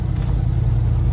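A 1988-1991 Ford F-150 pickup's engine runs steadily at idle, a continuous low rumble heard close and loud for about a second with no change in pitch.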